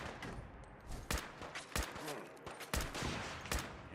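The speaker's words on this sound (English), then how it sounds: "He's shooting off rockets somewhere." Rocket launches and blasts in Fallout 4, a run of sharp bursts about every second spread across four seconds over a dense, noisy game backdrop, with no one talking.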